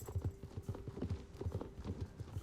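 Horse hooves clip-clop steadily in the Star Stable video game, a quick even rhythm of close, moderately loud hoofbeats running throughout with a faint tonal hum underneath.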